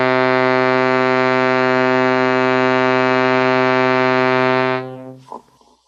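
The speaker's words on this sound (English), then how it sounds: "a bellow instrument that has a basic keyboard that emits a lot of harmonic overtones" A harmonium sustaining a single C note, a steady reedy drone rich in overtones, loud and close, holding evenly for several seconds before cutting off, followed by a faint clunk.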